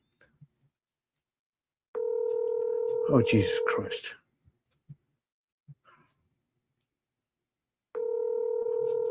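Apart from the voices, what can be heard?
telephone ringing on an outgoing call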